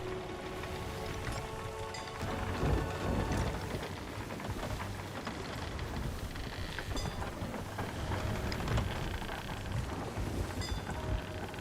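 A storm in Sea of Thieves pours heavy rain with rumbling thunder at sea, a dense steady downpour with low rolling swells of thunder throughout.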